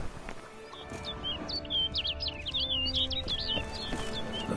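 Bird calling in The Witcher 3: a continuous run of quick chirps and tweets carries through, over a steady game ambience bed.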